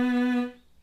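A violin sounds one bowed B note on the G string. The note is short, bright and close, held for about half a second before trailing away. There is no talking.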